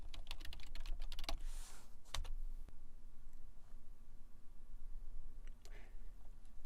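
Computer keyboard typed on to enter a login password for a virtual machine: quick clusters of close, crisp key clicks, a pause, then a few more scattered taps over a steady background hiss.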